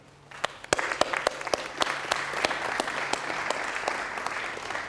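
A conference audience at Re|Source 2012 bursts into applause to welcome a speaker, the clapping rising fast and holding steady, with a few sharper claps standing out from the dense crowd sound.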